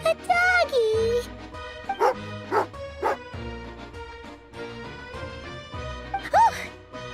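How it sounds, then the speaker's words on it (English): An angry dog in Genshin Impact, named Tagarin, barks and yips in several sharp bursts with whimpers in between, heard over game music and a character's voice. "Oh, a doggy."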